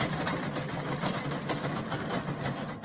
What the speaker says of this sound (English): This tractor here, if it's working in the field, is probably going to burn around 10 gallons an hour.